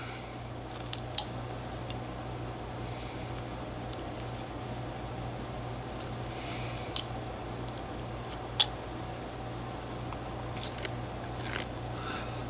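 A knife making push cuts while whittling a basswood block: quiet scraping with a few sharp, isolated clicks over a steady low hum, close by and without talk.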